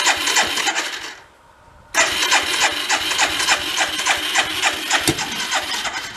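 A 1979 Chrysler Sno-Runner snowmobile engine, crashed and being revived, cranks and fires with a fast, rough two-stroke putter, stalls into a brief lull, then catches again and keeps chugging loudly.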